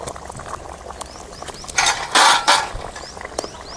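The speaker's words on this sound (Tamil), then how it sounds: "நல்லா கொதிச்சு வேவிட்டு நல்லா பூ வேகிற அளவுக்கு நல்லா வேவிட்டு" Cauliflower kurma bubbling in a pan, a steady simmer with a burst of louder bubbling and hissing in the middle, alongside some faint clicking, close by with no talking.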